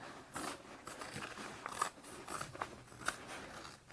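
Scissors snip through fabric for a pool tote bag, a few close, crisp cuts in a quiet room with no talking.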